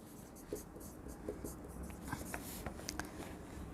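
Pen scratching across paper during an accounts class, a run of faint, quick strokes and taps against a soft room hiss.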